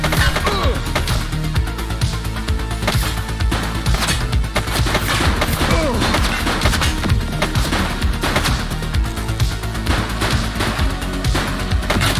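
Dense, continuous gunfire from a police video game, rapid overlapping shots and bursts forming a loud, unbroken barrage that runs the whole length, with no voices audible over it.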